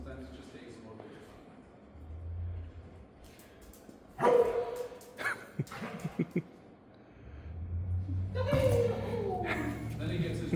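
A police K9 dog with the county sheriff's department barks and yips in short bursts while alerting on a vehicle, mixed with people talking and outdoor background noise.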